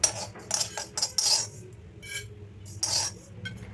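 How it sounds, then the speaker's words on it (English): Sesame seeds and cumin roast in a pan for curry leaf chutney, with intermittent spoon clinks and light scrapes against the metal over a quiet background. "Now take the pan and roast sesame and 1 spoon jeera."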